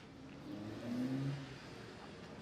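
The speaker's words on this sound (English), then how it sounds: "since I'm outside, you guys will hear traffic noise" Outdoor road traffic: a passing car's engine swells and fades over a couple of seconds, a medium-loud mid-frequency hum against a steady background wash.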